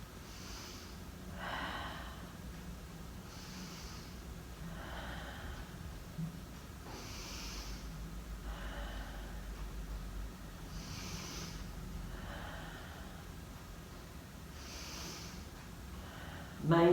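Slow, deep breaths during a seated yoga twist in a group fitness class, several soft inhale-exhale cycles spaced a few seconds apart, faint and close against a quiet room.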